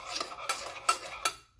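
A spoon stirs sugar into Cuban coffee, clinking sharply against the cup three times at a steady pace with light scraping between the strikes, close up and without any talk.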